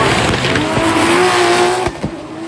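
A drift car fires into a line, its engine screaming at high revs with squealing tires, loud and close, with a brief dip and a blip near the end and no voices.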